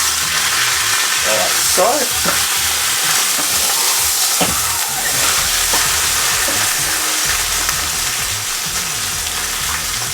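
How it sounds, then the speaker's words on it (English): Lamb browns in a pressure cooker with a loud, steady sizzle and crackling fry that continues unbroken for the whole stretch, with some stirring clatter and a brief spoken remark over it. "you can hear that bubbling away and browning on that side"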